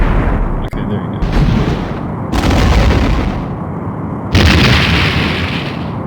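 A Romulan warbird blown apart in the PC game Star Trek The Next Generation: A Final Unity, heavy roaring blasts and rumbling explosions that swell in surges and hold loud and dense throughout.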